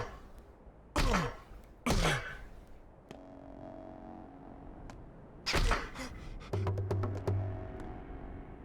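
Several heavy melee punches in a Pathologic 2 video game fight, sharp thwacking impacts landing singly and in a quick cluster, with swishes and low tonal game sounds between them, no talking.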